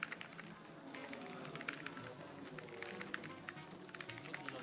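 Rapid, continuous typing on a computer keyboard during a typing race, dense quiet clicks of keys close by with a faint murmur in the background.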